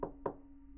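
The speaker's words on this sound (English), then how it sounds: "A knock at the door." Two quick knocks land on a house door on a snowy night, a quarter second apart, close and fairly soft, followed by a low steady hum.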